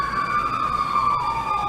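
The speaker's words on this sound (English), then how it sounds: "an ambulance goes by in the downtown area" An ambulance siren wails through a downtown street, a loud steady tone with its pitch sliding slowly downward as the vehicle passes, set over a low hum of city traffic.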